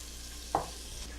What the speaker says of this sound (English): I'm going to put in that onion. We're going to pan sear it off until it's browning on the edges.